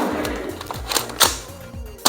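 A Boba Fett EE-3 Nerf blaster fires a dart with a quick springy thump and rattle, among several sharp mechanical clacks and handling noises close to the listener.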